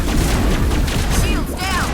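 Dense, continuous gunfire and booming blasts from the video game Mass Effect, aimed at the player and filling the whole moment at close, loud level.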